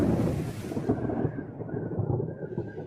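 A thunderstorm rumbles with a dense, steady low roar of thunder, rain and wind that rolls on continuously and loud, with no voices.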